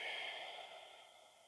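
A yoga practitioner lets out one long, soft exhale through the breath that fades gradually, quiet and close, with no talking.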